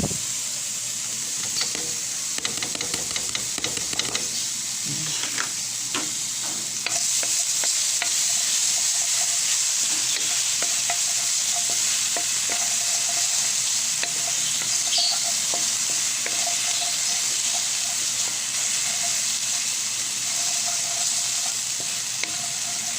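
Garlic fries in hot oil in a pan, starting with scattered stirring scrapes and clinks, then a loud, continuous close sizzle that holds steady.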